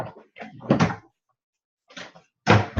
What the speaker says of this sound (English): I'm just opening drawers real quick.